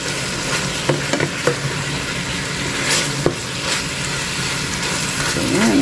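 Pork with pumpkin and red onion sizzles steadily in a stir fry pan, a continuous close frying hiss with occasional sharper crackles and stirring clinks, no talking.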